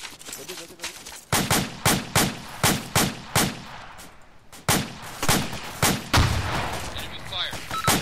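Enemy gunfire in a cooperative military video game, a run of loud sharp shots in steady bursts roughly every half second, with a brief lull midway before the firing resumes.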